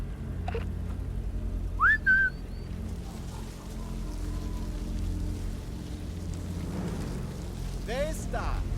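A short rising two-note whistle in Sniper Elite 5, blown to lure an enemy soldier, rings out clearly over steady rain-like ambience and a low rumble, and a second brief whistled phrase follows near the end.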